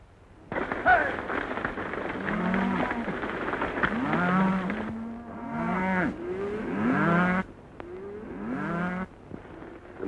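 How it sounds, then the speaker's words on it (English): Cattle on a western cattle drive bellow and low repeatedly, several drawn-out moos overlapping in a loud herd chorus over a low rumble of movement, with no clear speech. "A nice bunch of cattle you're sending to market, Mr. Dawson."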